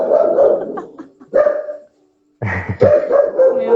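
Small dogs barking indoors, a few loud close yips and barks in two bursts separated by a brief silence.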